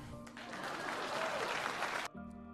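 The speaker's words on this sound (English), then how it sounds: "Please clap." A short burst of applause from a small crowd, dense clapping for about two seconds that cuts off abruptly.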